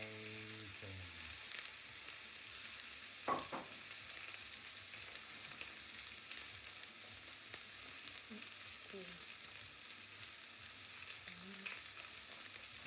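A 30-day dry-aged, French-trimmed beef rib sizzles steadily on a hot Saladmaster griddle pan, a loud continuous fry with crackling spits and a few faint clinks throughout.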